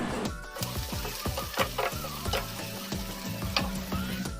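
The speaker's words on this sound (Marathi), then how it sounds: "टोमॅटो आणि कांदा व्यवस्थित असा दोन ते तीन मिनटं फ्राय करून घ्यायचा" Onion and tomato fry in a pan with a close, crackling sizzle, punctuated by quick stirring scrapes and taps of a spoon against the pan.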